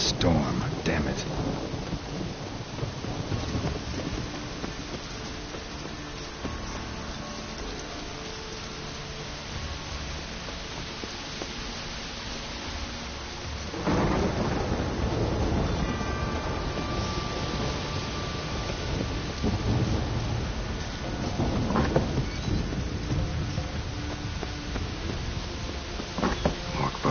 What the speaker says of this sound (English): Storm, damn it.